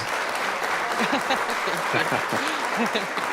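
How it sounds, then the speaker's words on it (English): A small group claps steadily, with voices talking and cheering over the applause. "we want to give you a round of applause"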